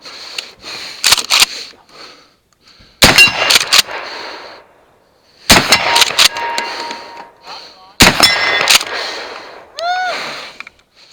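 Kel-Tec KSG pump shotgun firing slugs on a 3-gun competition stage, with sharp, loud shots in tight clusters separated by pauses, interspersed with metallic racking and clanks, plus a brief bird-like chirp near the end.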